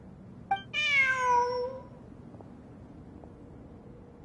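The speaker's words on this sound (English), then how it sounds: "Look! A cat!" A cat in a video game meows once, a clear drawn-out call lasting about a second, followed by near silence with a couple of faint clicks.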